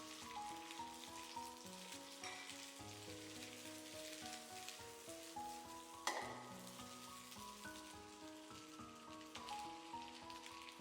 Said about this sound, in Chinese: 让上海青在锅里摊开，受热均匀些。